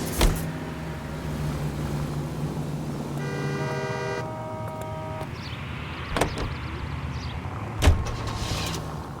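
Car driving in the 1940s Los Angeles detective game L.A. Noire: a steady engine rumble runs throughout, with a sustained musical-like tonal passage in the middle and a couple of sharp knocks or clunks near the end.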